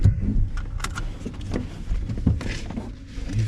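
A starter motor on a stock Ecotec V6 engine with a fault cranks and fails to catch, giving bursts of mechanical whirring and clunks close by under a steady rumbling background.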